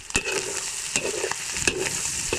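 Chilies frying in a pan for a very spicy Bicol express: a continuous crackling sizzle, close by, broken by several sharp scraping clanks of a spatula stirring against the pan, with no talk.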